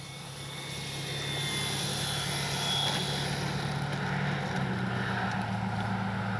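An FMS 1400mm F4U Corsair RC warbird flies overhead, its electric motor and propeller making a steady droning whine that swells as it nears and then holds, with wind noise underneath and no talking.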